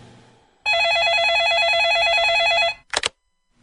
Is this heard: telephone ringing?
yes